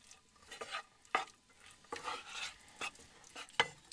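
Hamburger meat being mixed with mayonnaise gives soft, wet squelching and scraping strokes, about six irregular pulses, close and quiet with no talking.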